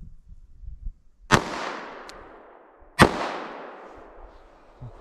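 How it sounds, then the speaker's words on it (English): .38 Special ball rounds fired into plain ballistic gel, two loud sharp gunshots about two seconds apart, each ringing out with a long fading echo. "Let me run a couple of rounds of this 38 special ball here."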